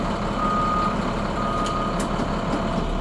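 A school bus in reverse gear sounding its backup alarm during a pre-trip check, a steady run of close, loud beeps over a constant idling engine rumble.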